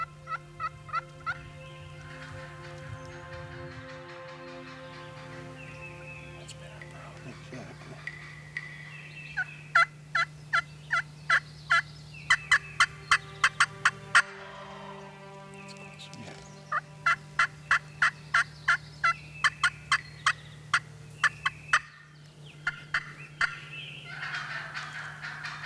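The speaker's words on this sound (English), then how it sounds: "Chad Kilmer continues to play on the aggressive nature of an irate hen, all in hopes of firing up an old gobbler" Wild turkeys calling: an irate hen's sharp, repeated yelps and cutts in rhythmic bursts, mixed with gobbles from an old gobbler, clear and fairly close over a steady low hum.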